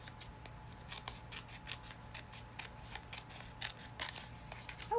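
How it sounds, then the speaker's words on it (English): Scissors snip through tape again and again in quick, crisp bursts, each close and dry, with a faint rubbing between cuts and no talking. "I'm going to cut this little top piece because it might get in my way"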